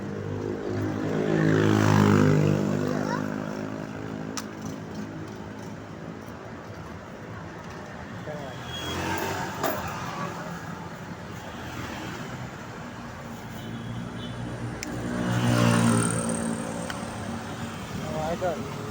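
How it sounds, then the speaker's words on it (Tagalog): Steady roadside traffic rumbles along the highway at Masambong, Quezon City, with three louder swells of passing vehicles, each rising and fading as it goes by, under moderate background noise; someone speaks over it. "Dito po tayo rito sa may highway na Masambong"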